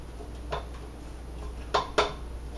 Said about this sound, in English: now I'm just going to clean the sides of my mixing bowl here and get to the bottom